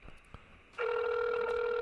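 A telephone call connects: faint clicks, then a steady electronic ringback tone starts abruptly and holds loud and unbroken.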